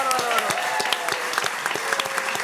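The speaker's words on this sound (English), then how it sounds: "Give it up for the audience." A studio audience claps loudly and steadily for a few seconds, a dense, continuous patter of many hands with no voices standing out.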